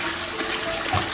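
Toilet flushing in a haunted-house horror game, a brief steady gush of rushing water, fairly loud and close, with no voices over it.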